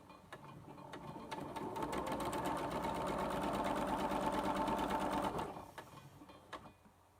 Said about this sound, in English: I'm putting it through the machine